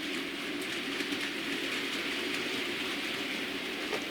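A Hornby TTS model locomotive runs along model railway track, giving a steady close whir and rumble with faint rail clicks, continuous and even in loudness.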